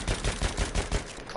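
Rapid gunfire from a French-made weapon in Battlefield, a quick burst of about six evenly spaced shots over a second and a half, loud and close, with no talking.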